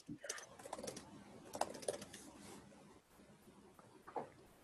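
Quick, irregular clicking and tapping on a computer keyboard during an online reading group call, faint and close, with soft voices murmuring underneath.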